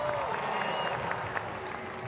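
A packed stadium crowd at a European Championship speed climbing event in Munich applauds steadily, a dense continuous wash of clapping with voices mixed in and a faint tone running through.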